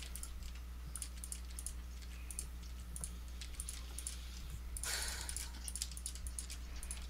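Rapid, frantic clicking on a computer keyboard and mouse during a game session, dense bursts of key taps repeating steadily over a low hum, with a brief louder flurry partway through.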